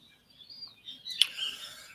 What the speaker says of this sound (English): I have the windows open so you can hear the birds better